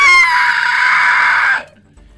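A creature's loud, shrill scream of pain in a spooky tabletop role-play game, one sustained strained cry lasting about a second and a half before cutting off abruptly into quiet.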